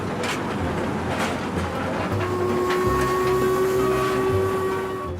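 Royal Scot steam locomotive hauls 256 tons of packed carriages up a 1 in 49 climb through the Esk Valley in Yorkshire. Its loud, steady rumble and chuffing are joined partway through by a sustained, high whistle-like tone.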